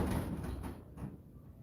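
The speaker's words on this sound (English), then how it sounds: "If you're slamming doors, you know it's an employee, not a ghost." Door at the Crescent Hotel in Eureka Springs, close by, giving a heavy sliding thud with a low rumble that fades over about a second and a half, with no talking.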